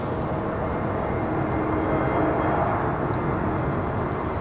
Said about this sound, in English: It's an American Airlines 321